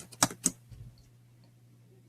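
A few sharp computer keyboard keystrokes, two loud clicks close together near the start and one more at the end, separated by quiet background hum.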